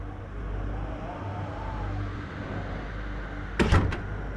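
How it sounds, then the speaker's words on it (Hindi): A household door is shut by a woman stepping away in a Hindi TV drama scene: one short, solid thud near the end, over a quiet room hum. "रुक एक मिनट बेटा, मैं दरवाजा बंद करके आती हूँ"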